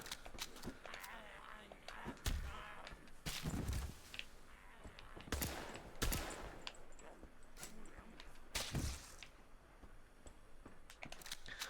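Gunshots in the video game The Road of Dust and Sorrow: several sharp, irregularly spaced cracks that sit fairly faint beneath someone talking quietly.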